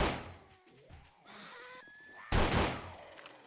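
A shotgun fires during a horde night in the video game 7 Days to Die, with two loud blasts about two seconds apart and quieter game sounds between them.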